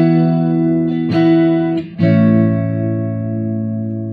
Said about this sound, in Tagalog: Try natin patunogin yung kanyang neck pickup.